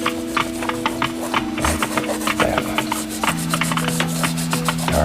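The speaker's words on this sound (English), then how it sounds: "And the more you rub this, the darker it's going to become because it's picking up the color that's underneath" Brush or cloth rubbing paint across a painting surface to darken it, close repeated rasping strokes in a steady rhythm, with a sustained tonal hum running underneath.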